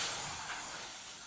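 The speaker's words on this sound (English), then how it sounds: "Yes, that's the sound of my iron." Steam iron hissing in a steady, soft high rush that eases slightly over a short burst, with no voices.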